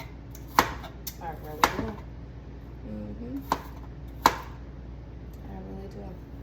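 A knife chops through an onion on a cutting board in a few sharp, separate knocks, close and fairly loud, while a person speaks briefly between the cuts.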